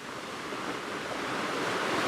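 Surf washes against a rocky shoreline on Jeju, South Korea, as a steady broadband rush that slowly swells in loudness, with some wind mixed in.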